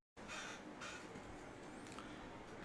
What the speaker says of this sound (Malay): Gagak depan kamera ni.